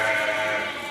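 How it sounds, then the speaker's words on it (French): Ladoum sheep, an improved breed from Senegal, giving a single loud, close, sustained bleat with no talk over it. "Ces moutons de race améliorée, appelés au Sénégal ladoum"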